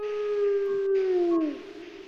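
A wolf howls as a sound effect during a tabletop role-playing session, a single long, clear howl that holds steady and then slides downward before fading.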